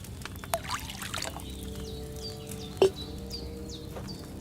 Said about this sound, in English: What are you waiting for? Pour it in there.